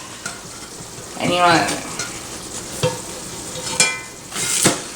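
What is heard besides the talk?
hoe cake sizzling in pan, flipped with spatula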